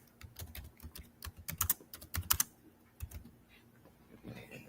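Typing on a computer keyboard: quick, uneven key clicks in short bursts with pauses, close and fairly quiet, with no talking.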